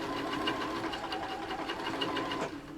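A sewing machine stitches fabric for a Japanese omiyage bag in a fast, steady, continuous whir and rattle, close and even, easing slightly at the end.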